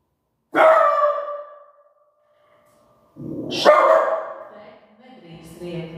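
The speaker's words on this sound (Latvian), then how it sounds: "Nedrīkst riet, naču." A dog gives two drawn-out, howling barks close by, split by silence, and a quieter whine or bark follows at the end.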